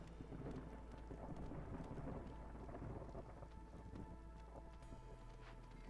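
Rain pours steadily with low thunder rumbling beneath it in the video game Against the Storm, a faint, continuous storm wash with no voices.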